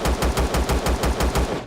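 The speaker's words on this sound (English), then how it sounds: "What am I getting shot by?" Turret gunfire in the video game Empyrion on the moon, a rapid steady stream of loud close shots in even rhythm, about eight bursts with no pauses.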